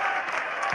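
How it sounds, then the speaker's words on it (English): Happy cricket crowd at an England versus Australia test applauding steadily, a brief, dense burst of clapping at even loudness with no clear voices. "mighty happy crowd"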